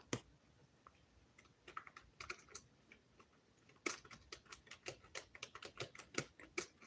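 Quick, uneven keystrokes clatter on a computer keyboard, close and quiet, speeding into a denser burst of taps toward the end with no voices.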